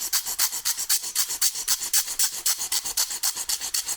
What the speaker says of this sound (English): I'll simply take them and sand them even